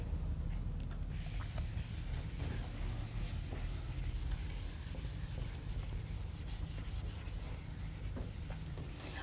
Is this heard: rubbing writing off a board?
yes